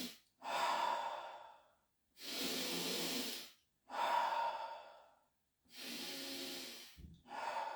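Deep belly breathing during qigong practice: four slow, long breaths, each a loud, close airy rush through the nose and mouth separated by quiet pauses, with a short snort-like catch near the end.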